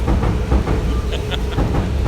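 A train rolls along the tracks in an Osaka neighborhood, a loud, steady rumble with rhythmic clacking and occasional hissing bursts, close by.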